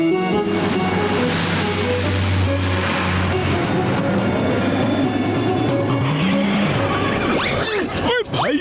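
A cartoon car from Motu Patlu races away from rolling jungle stones, its revving engine and skidding tires carrying over steady background music, with whooshing swoops at the end.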